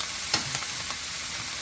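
Sausage and shrimp stir fry sizzles evenly in a pan, broken by a couple of light clicks and scrapes from stirring, with no voices over it.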